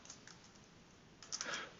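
Someone typing on a computer keyboard while coding a Java method produces a few sparse, soft key taps, then a quick close cluster of sharper clicks near the end.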